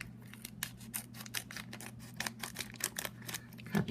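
Scissors snip repeatedly through the plastic of a Kre-o Cityville Invasion blind bag, a rapid run of sharp, close cuts over a low steady hum with no talking.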